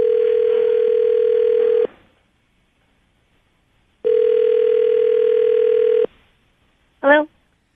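Telephone ringback tone on a call placed to a radio show listener, two long steady rings separated by silence, followed by a brief tone burst.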